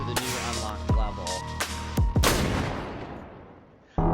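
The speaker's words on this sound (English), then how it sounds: "here's a gunshot to engage" Gunshots ring out in the video game I Am Your Beast, several sharp blasts over a droning game soundtrack, with another crack at the very end.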